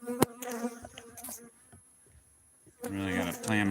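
Bees buzz close around a beehive, their whining hum rising and falling in loud bursts at the start and end with a quieter stretch between and no talking.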